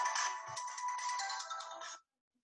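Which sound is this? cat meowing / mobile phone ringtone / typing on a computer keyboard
mobile phone ringtone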